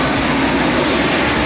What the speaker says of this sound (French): Bon on va laisser l'avion passer.